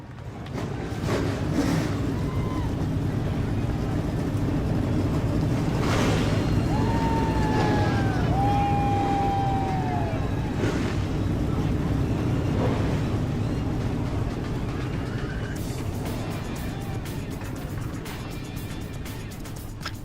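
Stock cars in the iRacing game fire up for an eNASCAR race at Pocono Raceway, a dense continuous engine roar with rising whining tones that climbs and holds loud throughout before thinning near the end.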